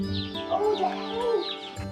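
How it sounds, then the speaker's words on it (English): Day-old Ross broiler chicks cheep continuously at close range, a dense chorus of high, overlapping peeps with no talk. "I've ordered a batch of Ross chickens."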